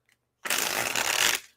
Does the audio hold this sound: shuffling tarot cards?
yes